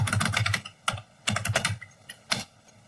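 A command typed on a computer keyboard at a command prompt: quick clusters of close key clicks, a brief pause, then a few more taps, alone with no talk.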